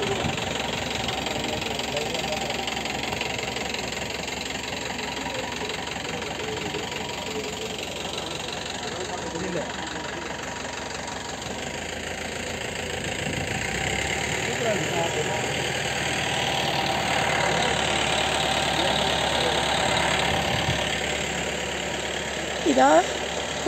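A van's engine hums steadily while driving a misty mountain road to the Servarayan hills view point, a continuous low rumble with slight swells and a brief knock near the end.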